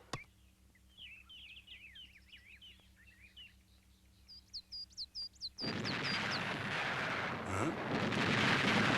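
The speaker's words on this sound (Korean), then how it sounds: "발파 준비" Explosive blasting charge detonating during road-building work: birdsong chirps in the quiet, then a sudden loud blast that swells into a sustained, broad, rumbling roar.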